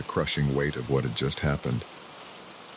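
Steady rain falls outside a cabin, a soft continuous patter running under a narrator's voice and lingering faintly alone once the talking stops.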